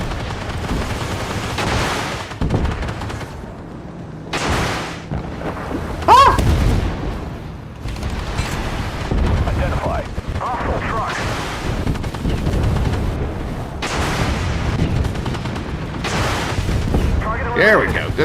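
Gunfire in a shooter video game, dense bursts and booming shots running throughout, loud and close, with a player talking over much of it.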